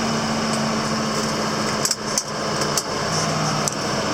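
Tractor engine revved to full RPM, pulling a hay tedder across a field: a steady, loud, high mechanical drone with a few brief clanks and dips, running continuously with no talk.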